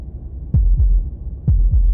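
A heartbeat sound effect from the video game Slay the Princess thumps twice in quick lub-dub pairs, deep, loud and close, alone without any voice.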